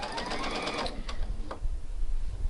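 A sewing machine runs a stay stitching line on garment fabric for a New Look 6575 pattern, a close, steady mechanical whir with rapid needle ticks and a few sharper clicks, with no voice over it.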